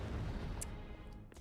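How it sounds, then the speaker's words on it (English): A video game explosion booms in a Nintendo game, with a heavy low rumble that fades out, followed by a few sharp bursts and crackles. "I'm gonna walk away from the explosion"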